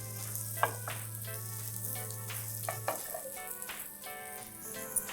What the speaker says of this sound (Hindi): 2-3 मिनट के लिए इसे दूसरी साइड से भी अच्छे से हम शैलो फ्राई होने देंगे